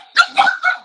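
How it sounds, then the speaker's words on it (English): A dog gives three quick close barks in a row, loud and sharp with a slightly whiny edge. "My dog's going now."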